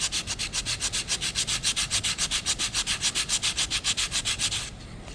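Hand sanding over nail holes on a wooden picture frame, a fast, even rhythm of raspy back-and-forth strokes, about six per second, close and clear with no talking, stopping just before the end.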